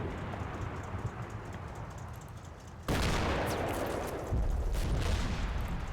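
Gunfire from a gun in the Combat Mission Red Thunder war game crackles at a distance under a constant background bed, then grows louder with sharp bursts.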